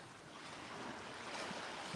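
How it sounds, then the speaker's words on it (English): Ocean waves on Vanderbilt Beach give a steady broadband wash, a continuous roar of surf with slight swells and some wind buffeting the microphone. "Just listen to the waves a little bit, right?"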